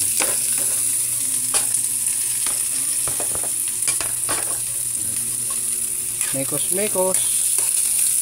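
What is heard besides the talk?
onion and garlic sautéing in hot oil for chicken soup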